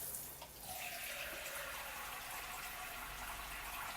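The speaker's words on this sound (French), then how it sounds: "Donc on va mettre 200 grammes d'eau chaude." Hot water pouring steadily from a tap or kettle into a container to make vegetable bouillon paste with dried mushrooms, a continuous close gushing splash lasting the whole stretch with no talk over it.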